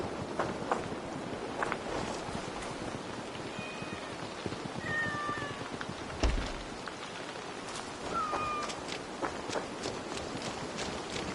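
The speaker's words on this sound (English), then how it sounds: "I never thought the meow of cats could soothe my soul." Several cats meowing in Assassin's Creed Valhalla, short rising calls spread across a quiet outdoor bed, with soft footsteps and a brief thump in the middle.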